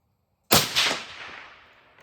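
A single rifle shot from a .25 Creedmoor firing a 135-grain Berger Hybrid Target bullet: one sharp, loud crack after a short silence, then an echo that decays over the next second and a half.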